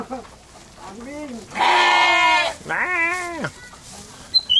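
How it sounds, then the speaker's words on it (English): A goat on a farm in Indonesia bleats in a few drawn-out, wavering calls close by, with brief pauses between them. "This guy's a goat farmer."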